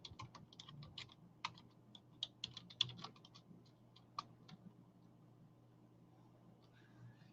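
Keys being typed on a computer keyboard in an irregular run of light, close clicks and taps over a low room hum, easing off into quiet toward the end.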